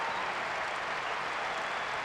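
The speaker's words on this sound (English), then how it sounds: "A roar of approval from the crowd" A football crowd in the video game PES 2012 roars in approval after a goal, a steady, dense wash of cheering and applause that holds at an even level throughout.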